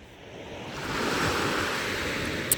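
Sea waves wash onto a shore in steady, broad surf that swells and holds, mixed with some wind noise, with no voices.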